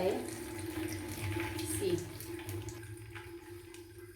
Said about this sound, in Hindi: Now I will squeeze it so that कि सारा पानी निकल जाए।